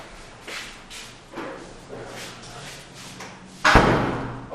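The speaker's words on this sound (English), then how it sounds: "I will shut that door as well." Shuffling footsteps and small rustles build up to a single loud thud as a lecture room door is shut near the end, with a brief bump right after.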